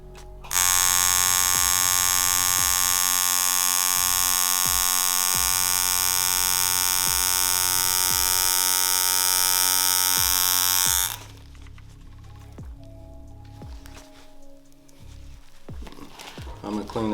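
Tattoo machine buzzing loudly and steadily for about ten seconds while a line is drawn on fake skin, with a low mains-like hum and rhythmic ticks underneath, then stopping abruptly, leaving quieter handling noises.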